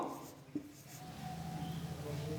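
A pen scrawls numerals while a class 7 exponents math problem is worked, with short scratchy strokes and a brief tap near the start, and a faint voice murmuring in the background.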